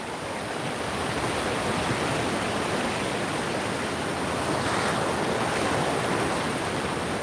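Ocean surf rolls in as the tide comes in, a broad, steady wash of waves that stays constant and fairly loud, with a slight swell near the end and no voices.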